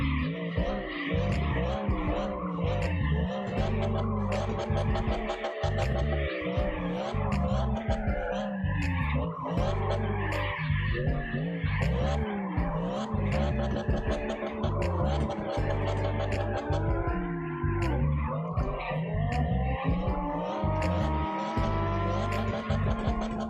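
A car in the CarX Drift Online game drifts continuously, the engine revving and falling between shifts while tyres squeal in long, wavering screeches that swell and fade, loud and close with no talk over them.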